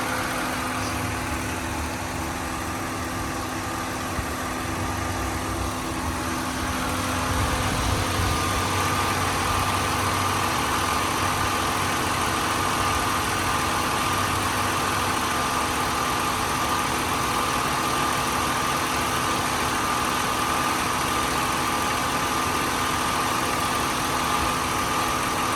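A 2001 Nissan Maxima GLE with about 132,000 miles idles steadily and close, a smooth continuous engine hum with faint mechanical vibration and a slight rise in level partway through, no talking.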